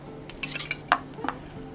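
A metal spoon clinks and scrapes against a pan while butter compound is spooned over grilled sausages, with a few light taps and a soft sizzle close by.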